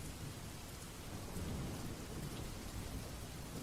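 A storm with heavy rain falls in a steady, even hiss, faint and distant, with a low rumble beneath it and no voices.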